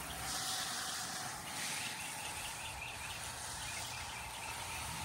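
Water from a garden hose sprays onto a strawberry bed outdoors, a steady broad hiss that runs unbroken throughout with faint birdsong behind it and no talking.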